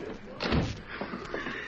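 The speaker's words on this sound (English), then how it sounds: "Shut that door before you start talking." A door slamming shut in an old-time radio drama, a single dull thud close by, followed by faint shuffling and a muffled voice.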